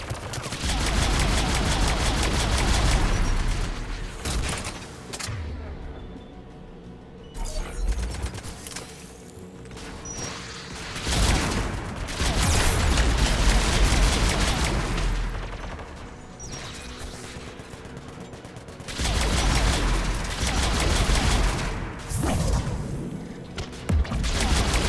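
Gun turrets guarding a tower in Mass Effect 3 fire in dense, sustained volleys of loud rapid gunfire and impacts, broken by brief lulls before the barrage resumes.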